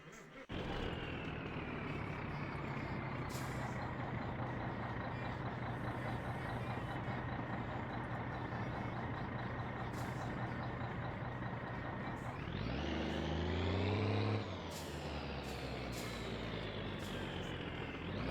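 A heavy truck rumbles along steadily in the My Summer Car driving game, its engine droning at an even pitch before revving up and shifting near the end, loud and close with no voices.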